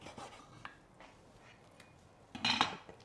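A knife cuts through slow-roasted bulgogi ribs with soft scraping and rubbing against a plate or board, quiet at first and then a louder, sharper cluster of cutting noise near the end, with no voices.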